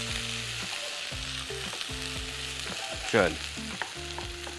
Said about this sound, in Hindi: ये प्याज और ये अदरक लहसुन थोड़ा सा फ्राई किया।